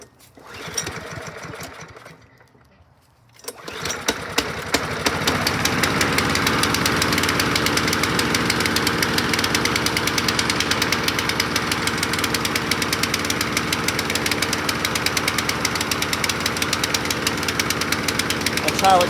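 A 2010 Yardworks lawn mower with a PowerMore engine starts after a few seconds of quiet and settles into a loud, steady running drone with a rapid knocking rhythm, close by, continuing unbroken to the end.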